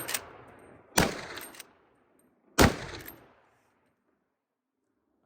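Two loud, sharp shots from a Marlin or Henry 45-70 lever-action rifle firing HSM loads ring out about a second and a half apart, each followed by a short ringing decay and faint lever clatter, then quiet.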